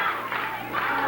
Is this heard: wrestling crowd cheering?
yes